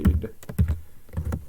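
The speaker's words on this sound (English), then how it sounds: "Just typing Bamboo." Keys clatter on a computer keyboard in short irregular bursts, a few quick taps clustered together with brief gaps between them, close and moderately loud.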